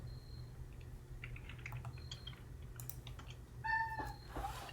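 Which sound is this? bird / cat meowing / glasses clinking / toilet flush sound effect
cat meowing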